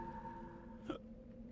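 A single short hiccup from a character in the Mass Effect 2 Legendary Edition video game, a brief voiced gulp that stands out over a quiet humming game ambience.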